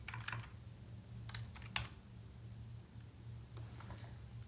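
Keys on a computer keyboard click in short, quiet bursts with gaps between them, close and faint over a low steady hum, with no voices.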